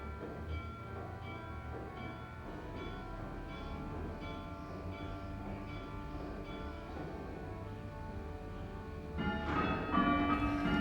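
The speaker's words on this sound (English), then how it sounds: "As you can hear, there is a chime of 3 bells" Three church bells of St Giles' Church, the largest a C-sharp tenor cast in 1510, ring in a slow, overlapping chime, faint and distant with a sustained resonant hum.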